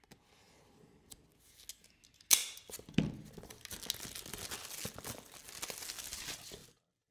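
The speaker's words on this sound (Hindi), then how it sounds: "पहले बॉक्स के ऊपर लगे इस प्लास्टिक को उतारेंगे" Plastic wrap is peeled and torn from a Vivo Y19 phone box, producing close crinkling and crackling with a sharp tearing snap, followed by several seconds of continuous rustling plastic.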